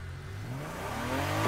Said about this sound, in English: I'm pretty sure this is the E46 engine.